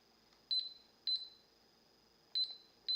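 Microwave timer buttons in a home kitchen give short, high electronic beeps, four presses in an uneven rhythm, close and clear in a quiet room.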